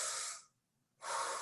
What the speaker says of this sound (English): So whenever you do a deep breath in and out,